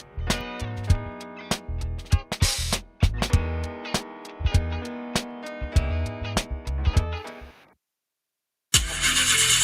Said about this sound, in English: Jaja, I got to get this engine fixed.